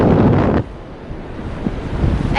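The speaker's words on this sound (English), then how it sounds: "I can see the waves and the wind" Wind and waves at Blackpool North Pier: a loud gust buffeting the microphone for half a second, then a softer steady rush of surf and wind.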